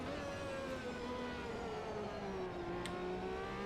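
Judd-engined Dallara F1 car from the 1991 season in Automobilista 2, engine droning steadily at high revs with slowly shifting pitch, loud and continuous throughout, no voices.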